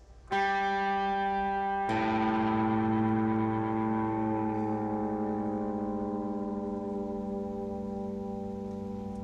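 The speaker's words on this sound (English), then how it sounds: "And we're going to tune the A down to that like this." A plucked guitar G note rings, then the A string is struck and tuned down, its pitch sliding slowly downward while both sustain and gradually fade.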